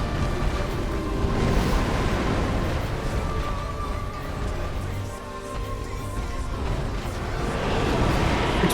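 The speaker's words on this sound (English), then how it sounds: "Explosion." Rumbling explosion blasts during a video game boss fight, a dense sustained roar with low booms, loud and continuous over game music.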